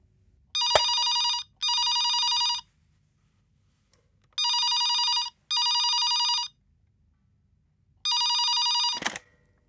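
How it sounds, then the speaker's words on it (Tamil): A telephone bell rings in three paired bursts, each a loud, steady electronic trill separated by short silences, with a few faint thumps and no talk. "அர்ச்சனா, அர்ச்சனா, போன் அடிக்குது பாருமா."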